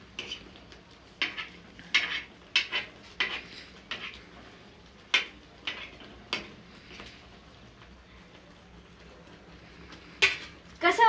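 Besan batter cooking in a pan for a traditional Marathi besan bhaji, with irregular sharp pops and spits scattered across the clip and a quieter stretch in the middle.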